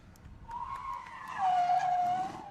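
A drift car's tyres squeal in a long, rising screech after a handbrake dab at a drifting qualifying event. The skid sounds close and loud over engine rumble.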